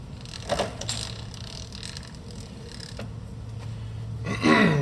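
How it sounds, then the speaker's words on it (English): Quill of an Arboga radial arm drill, model RLM3508, being lowered, giving soft creaks and mechanical scraping over a low machine hum, ending with a louder squeal. "As you can see, the quill goes down nice and easy"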